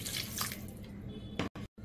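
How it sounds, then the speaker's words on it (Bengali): Water pours steadily into a pan for a hilsa fish curry, a close, soft splashing stream that briefly cuts off near the end. "আমি পরিমাণ মতন জল দিয়ে দিয়েছি।"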